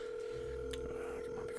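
Telephone dialing in the AQ3D video game: a steady electronic tone runs throughout with a few faint tonal blips, quiet and alone.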